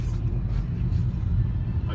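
Steady, loud low rumble of road traffic heard during a slow morning commute, cars and engines droning continuously close by with no distinct pass-bys.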